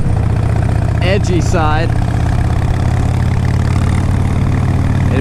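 A 2004 Harley Davidson Road King Custom motorcycle engine idles with a steady, loud low rumble throughout, while someone talks briefly over it near the start.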